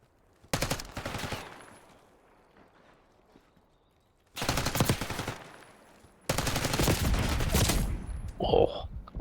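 Automatic weapons fire in Black Ops 6 comes in three loud, sustained bursts separated by quieter gaps, with faint game sounds between them.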